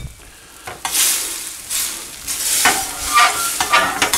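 Butter sizzles in a frying pan with tilapia, a steady hiss broken by several louder bursts of spatter and stirring scrapes, close and with no talk.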